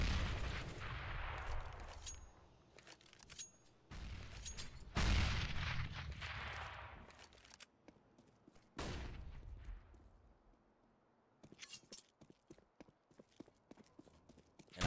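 Bursts of gunfire in the CS:GO match between mousesports and Astralis, a P250 pistol and an AK rifle trading shots, sharp loud cracks with echoing tails clustered in volleys and separated by pauses.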